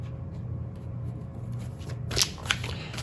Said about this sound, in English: I want to pull one more card here